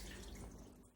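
Tap water running steadily for hand washing in a home kitchen, a soft continuous rushing splash heard alone at low level.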